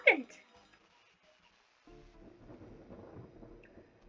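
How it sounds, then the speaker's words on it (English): Thunder rumbles outside during a storm, a sharp crack at the start followed by a low, rolling rumble and patter of rain, moderately distant. "a roar of lightning crashes down outside"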